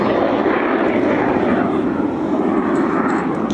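Jet Provost jet trainer flying past at the Cotswold Airshow, a loud, steady engine roar filling the air without a break.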